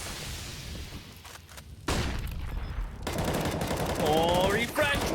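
Rapid gunfire in a Counter-Strike-style esports match between Mad Lions and x6tence, a player spraying bullets into a box, loud sustained bursts with a whoosh and rattling shots in the game mix.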